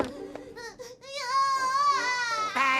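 A cartoon baby elf crying, high wailing sobs with short whimpers that build into a sustained, loud bawl, close and alone.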